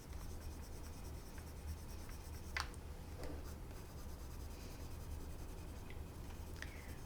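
Colored pencil strokes on paper, shading a tiger shark drawing with shifting pressure, a faint steady scratchy scribble under a constant low hum, with a few brighter rubbing strokes.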